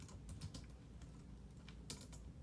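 Patient notes are typed into Dentrix dental software on a computer keyboard, a quiet, irregular patter of key clicks with brief pauses and a small burst near the end, close and alone.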